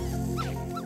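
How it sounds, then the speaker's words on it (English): An Aibo robot dog gives two brief, electronic whimpering yips in about a second, close and clear over a steady mechanical hum. "It likes to play and makes itself noticed like a real dog when it wants to be fed."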